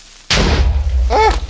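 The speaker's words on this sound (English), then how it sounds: "I hear an explosion." A creeper explodes in Minecraft with a sudden loud, close boom that rolls on for more than a second as the blast decays.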